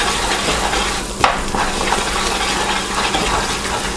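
Hot peanut brittle mixture sizzles and bubbles steadily in a pan while butter is stirred through it, with a brief scraping stroke of the spoon partway through and no talking.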